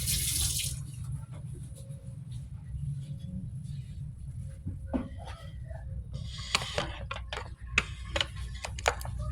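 Dishes being washed by hand at a kitchen sink after breakfast, with a tap running steadily throughout and sharp clinks and knocks of plates and utensils scattered over the water noise, no talking.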